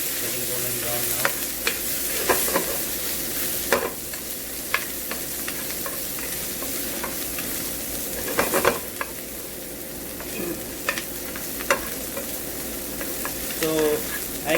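Eggplant fries in a pan with a steady low sizzle and occasional clatters of a utensil stirring and scraping, no voices.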